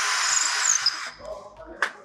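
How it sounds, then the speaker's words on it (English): A power drill bores through a wooden stair baluster, a loud whining burst that lasts about a second and then stops, followed by quieter handling clicks and a short knock. "Once we find the center, we're going to drill through the baluster"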